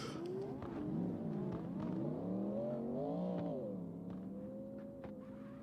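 A race car engine revs up and down in a racing video game, a loud buzzing whine with rising and falling pitch sweeps, steady and close, easing slightly toward the end, without speech.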